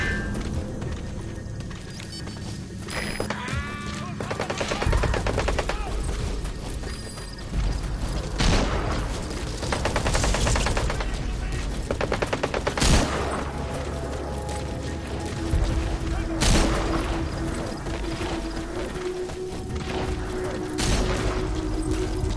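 Gunfire and explosions in the stealth action game Metal Gear Solid V: The Phantom Pain, loud repeated booming shots and mechanical clatter over a continuous dense battle soundscape, with faint voices underneath.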